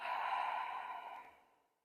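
A single long, soft breath is let out through the mouth during a yoga breathing exercise, airy and steady before fading to silence.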